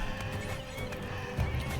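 Donkeys in RimWorld bray and whinny in rough, hoarse calls over a busy game background, fairly close and moderately loud, with a stronger outburst near the end.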